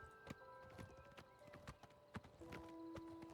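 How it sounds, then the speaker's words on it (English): Horse hooves clip-clop in a steady, brisk rhythm as a mount is ridden in the video game Oblivion Remastered, with several sharp hoof strikes over a tonal game soundtrack and no talk. "This game is actually so cool how you can just ride around on a horse."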